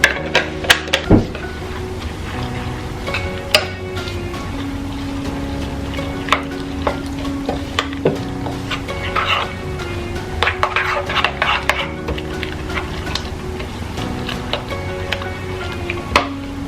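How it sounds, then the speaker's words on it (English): Whey protein is mixed with oat milk in a container, with clattering scrapes and clinks of a utensil against the dish repeating irregularly and close by for several seconds. "mixing it together well like I do here"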